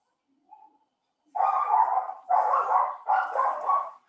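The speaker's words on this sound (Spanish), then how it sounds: "disculpen los de la grabación con lo del perrito, pero no podemos hacer mucho, es de los vecinos" A neighbours' dog barks nearby: a faint yip first, then three loud, sustained barking bursts in quick succession, with no one speaking over it.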